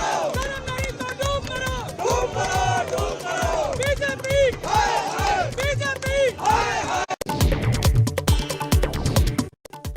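A large crowd of Aam Aadmi Party workers gathers at the party office in Delhi during a protest, with loud, continuous chanting and shouting voices overlapping and swelling, then a short break and a renewed burst of crowd noise.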